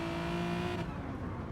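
Race cars running in a train at the Nurburgring in a racing video game, a steady engine drone with tonal whine holding close, then thinning as the pack moves on.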